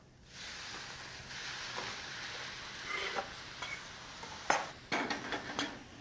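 Tomato goes into a pan of hot olive oil with onions and garlic, giving a low steady sizzle, then a few sharp clinks and scrapes of utensil against pan near the end.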